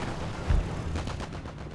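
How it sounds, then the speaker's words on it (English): A plane's strafing run in Company of Heroes, with rockets and cannon fire: a brief burst of gunfire with one heavy thump early on, then a rapid rattle of shots trailing off. "performing strafing runs with rockets and cannons, just like that"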